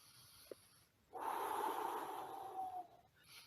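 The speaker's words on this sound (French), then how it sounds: "vous respirez et vous soufflez comme ça" A brief faint sniff comes first, then one long, steady breath blown out through the nose lasts nearly two seconds, close and clear in a quiet room.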